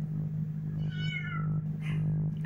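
A pregnant cat meows for food, a couple of drawn-out close meows over a steady low hum in the room.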